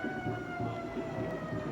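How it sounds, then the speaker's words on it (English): A Detroit Fire Department fire engine's siren blares at a Thanksgiving Day parade, its steady wail loud and close, with engine rumble and crowd noise underneath. "That's a fire engine"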